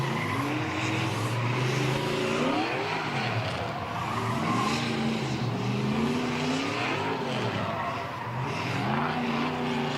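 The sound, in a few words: race cars warming up their tires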